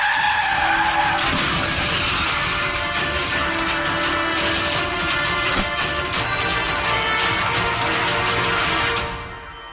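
A car brakes hard and skids, tires squealing in a long, loud, continuous screech that holds steady for several seconds before fading as it comes to a stop.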